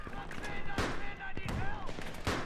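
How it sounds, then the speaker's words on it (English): Automatic gunfire rattles in a Battlefield 3 firefight, sharp bursts recurring every second or so amid loud chaotic battle noise, with voices talking over it. "Look at that cocksucker with that machine gun!"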